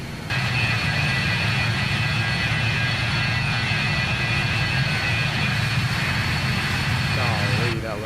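Loud, continuous roar of BAE 146 jet engines at climb in Microsoft Flight Simulator, a steady whine layered over a deep rumble for several seconds before cutting off near the end.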